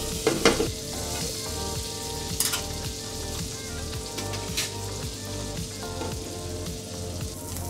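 Scallops fry in a pan with a small knob of butter, a loud, continuous close sizzle with crackles and occasional stirring scrapes, no talking.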